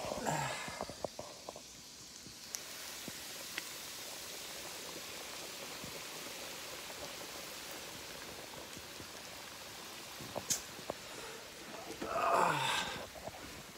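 Chicken pieces frying in hot oil, a steady crackling sizzle with scattered pops and spits, fairly quiet and close, swelling briefly toward the end, with no one talking over it.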